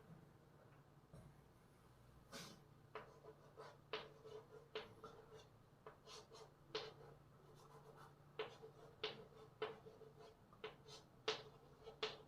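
Chalk or marker writes questions on a board during a maths class. Irregular taps and short scratchy strokes come in quick bursts, faint and close, with no talking.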